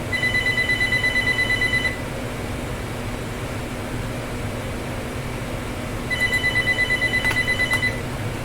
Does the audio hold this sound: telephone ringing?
yes